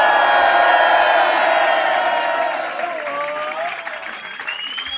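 Concert crowd at La Maroquinerie applauding and cheering loudly, a dense wall of clapping and whoops that slowly fades, with high shouts rising near the end.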